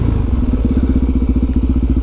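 A motorcycle engine thuds in a steady, fast rhythm of close, loud pulses as the bike is ridden, with no voices over it.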